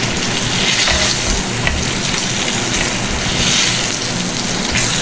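Chicken fries in a pan with a loud, continuous sizzle and crackle, up close and steady throughout, with no voices.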